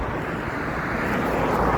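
Airplane passing overhead near Heathrow Airport, a broad airy engine rumble that swells slightly toward the end, heard outdoors with some wind and no talk.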